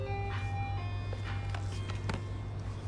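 An ice cream truck's chiming jingle plays over a steady low engine rumble as the van passes nearby, the tinkling melody continuous and fairly loud with no voices.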